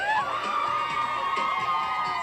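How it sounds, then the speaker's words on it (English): Women at a wedding reception scream together on cue, a burst of many high, sustained shrieks blending into a loud, wavering chorus that holds for a couple of seconds. "on the count of three, all ladies scream"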